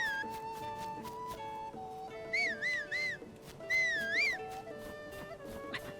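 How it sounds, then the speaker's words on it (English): A warbling whistle calling a horse in The Legend of Zelda: Tears of the Kingdom sounds twice in rising and falling bursts over steady tonal game music, with no talking. "can my horse hear the sound of my whistle?"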